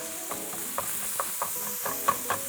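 Hamburger meat browning in a pan for cheeseburger empanadas gives a steady close sizzle and hiss, with small scraping stirs and pops scattered throughout.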